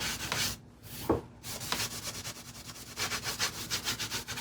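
Wood is scraped or sanded by hand on a mid-19th-century piano under refinishing, close, soft rubbing strokes in an uneven back-and-forth rhythm.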